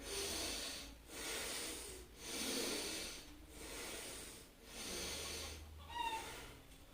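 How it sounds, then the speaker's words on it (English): Slow, deep breaths during a Qigong energy exercise, five long airy inhale-exhale cycles in a steady rhythm, close and fairly loud, with a faint whistle near the end and no voices. "Take a long breath."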